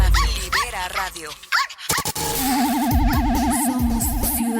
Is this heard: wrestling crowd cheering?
no